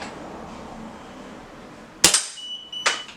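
Gamo GX250 air rifle fires twice with two sharp, loud cracks, each leaving a brief metallic ring, over a steady low background hiss.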